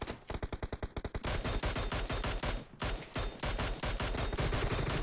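Rapid automatic rifle fire rings out at a shooting range in PUBG Mobile, tight bursts of loud, close shots rattling off in quick succession with brief gaps between volleys.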